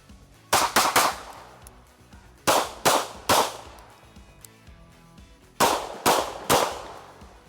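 Kimber 2K11 Pro 4-inch pistol firing in three quick strings of two to three loud sharp shots each, with brief gaps between the strings and short echoing tails, no talking.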